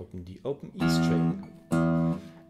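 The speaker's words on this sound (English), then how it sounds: "Then I play the open E" A short bit of talk, then the open low E string of a guitar is plucked twice, each note ringing out clearly and fading.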